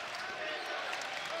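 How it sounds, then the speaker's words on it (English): Dense, steady roar of an animated crowd cheering at a college basketball game between Toledo and Central Michigan, loud and continuous throughout the arena with no break in the noise. "This crowd is definitely animated."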